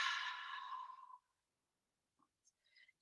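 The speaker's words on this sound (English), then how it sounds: "Take a big breath in and let the breath go out the mouth." A single long breath pushed out through the mouth during a relaxation exercise, close and clear, fading out after about a second into near silence broken by a few faint small sounds.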